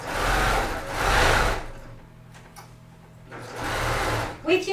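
Sewing machine stitching a quarter-inch seam through quilting fabric for a coffee cozy, running in steady bursts with a pause in the middle, under a person's ongoing instructional talk.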